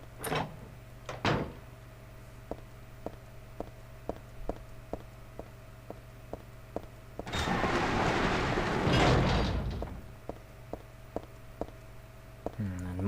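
A door opens in the horror video game Silent Hill 3 with a loud, rough, drawn-out grinding rush lasting a couple of seconds, after a run of soft, evenly spaced clicking steps.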